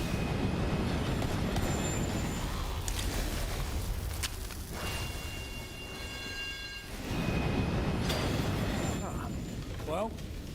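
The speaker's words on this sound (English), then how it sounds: "it's just following an angry anthropomorphic brain train into a strange portal" Rumbling rail noise from an angry anthropomorphic brain train in Borderlands 3, a steady loud drone with metallic ringing tones throughout, dipping briefly in the middle, mixed with game sounds and possible background voice.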